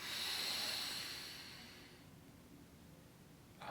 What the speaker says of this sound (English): take a deep breath in through your nose